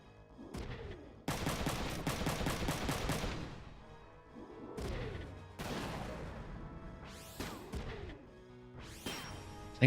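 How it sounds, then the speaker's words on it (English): Shotgun counterattack in Front Mission 3: heavy blasts and rapid rattling volleys alternate with whooshing mechanical sweeps, repeated several times in close succession, loud and near with no talk. "I think we shotgun counter this."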